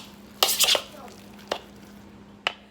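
Fathead keto pizza dough being mixed in a bowl gives a short cluster of scraping, clattering strokes, followed by two isolated sharp taps against the dish, close and fairly loud over a low steady hum.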